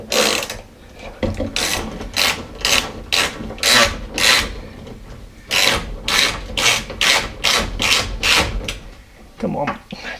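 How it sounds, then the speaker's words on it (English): Creaking window glass on a Lincoln Continental during a window regulator repair, a run of loud, repeated rasping scrapes in uneven rhythm, close up, pausing midway and then continuing. "Hear that window creaking?"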